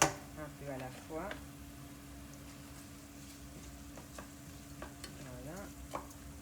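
A spoon stirring beetroot Creole risotto in a pan, soft scraping strokes over a low steady sizzle, with faint background sounds and no clear speech.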